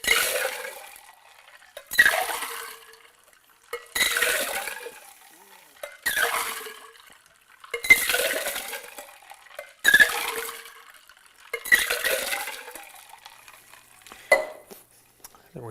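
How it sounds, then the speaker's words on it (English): A Caesar cocktail rolled back and forth between metal tins, ice and liquid sloshing and clinking in regular bursts roughly every two seconds, about seven pours, close and moderately loud with no talk. "we're going to roll this drink rather than shaking it or stirring it"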